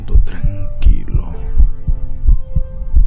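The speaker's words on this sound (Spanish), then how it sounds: "el latido subía de punto cada instante hasta que creí que el corazón iba a estallar" A heartbeat sound effect thumps in a steady, deep double-beat rhythm under a horror story narration, the low pulses repeating evenly beneath a speaking voice.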